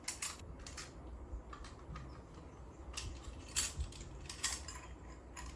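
Batteries go into a small luggage weighing scale. Faint, close plastic clicks, snaps and small rattles come in scattered bursts over a quiet background hiss, with no talking.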